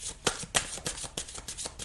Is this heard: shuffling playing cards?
yes